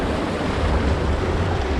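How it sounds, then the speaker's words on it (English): A waterfall along a backpacking trail in Capitol Reef National Park rushes as a steady, dense roar of falling water that stays even and continuous throughout, with no voices. "So just after the waterfall, you can still hear it."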